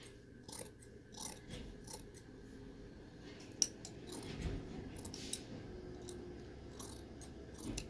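Scissors snip through fabric laid along a ruler, a quiet run of repeated crisp cuts with small metallic clicks of the blades, close and steady with no talk.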